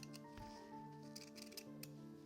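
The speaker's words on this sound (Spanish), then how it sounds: "vamos a recortar con unas tijeras encizas" Scissors snip through fabric while a rag doll angel body is trimmed, giving a few short crisp cuts at an even pace, close and fairly quiet over a low steady hum.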